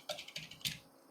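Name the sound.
typing Tamil text on a computer keyboard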